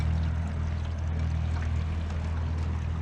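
Jon boat fitted with pontoons idling through a no-wake zone, a steady low motor rumble with continuous water wash, no talking.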